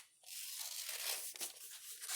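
Bunny ears for a headband being cut out, a close, steady crisp rasping and crinkling of material that runs for about two seconds, fairly quiet and without speech.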